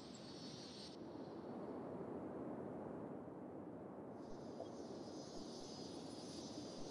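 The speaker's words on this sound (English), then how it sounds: "planes actually take off here" Airplanes take off in the city-building game Cities: Skylines, a broad, steady jet roar with a high whine that fades and returns, sounding distant and fairly quiet.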